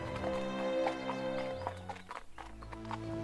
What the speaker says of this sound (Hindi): इतना बोलकर राजा अपने घोड़े पर सवार होकर अपने महल की दाई दिशा की ओर एक पहाड़ी पर चल पड़ा।